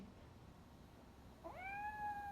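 A single cat meow in the RoboCop: Rogue City video game, a clear rising then sustained call arriving after a quiet stretch of low room tone, with no talking.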